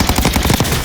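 Automatic gunfire from a weapon being sprayed in Warzone: a quick, steady run of close, loud shots with no pauses.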